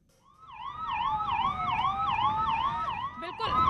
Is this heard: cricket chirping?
no